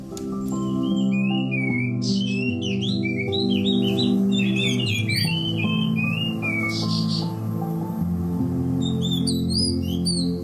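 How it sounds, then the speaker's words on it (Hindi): Oriental magpie robin singing, a loud, close run of varied whistled phrases and squawky notes over a dense, steady background of other sound, with no speech. "दरअसल वो ओरिएंटल मैगपाई रॉबिन प्रजाति की चिड़िया है"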